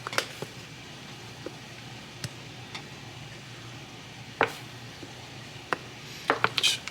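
A brisket mac and cheese filling being stirred with paprika in a kitchen, heard as quiet scattered scrapes and soft taps with a few sharper clicks against a low background.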